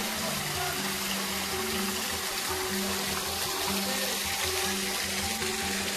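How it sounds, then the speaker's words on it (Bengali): Cold water pouring down from a hill onto rocks at a scenic spot in Ghatshila, a steady, loud, continuous rushing roar close by with no pauses and no voices. "দেখতে পাচ্ছ ওই পাহাড় থেকে জল নেমে এখানে পড়ছে। খালি জলের আওয়াজটা শোনো"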